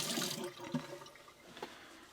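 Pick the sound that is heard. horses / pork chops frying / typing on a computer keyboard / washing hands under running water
washing hands under running water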